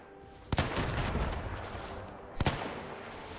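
Two sharp gunshots from the Between Empires video game, about two seconds apart, each loud and abrupt with a brief echoing tail over a steady battlefield background.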